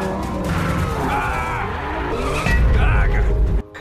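A Bentley roars through a car chase with loud engine noise and squealing, skidding tires, ending in a heavier low rumble before cutting off abruptly. Voices are faintly mixed in.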